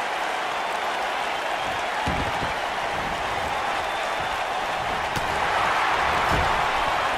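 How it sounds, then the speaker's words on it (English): Crowd noise fills a wrestling arena in Philadelphia within the WWE 2K19 video game, a steady wash of cheering and applause with a few sharp impacts and a swell near the end. "We've got a raucous crowd here in Philadelphia tonight"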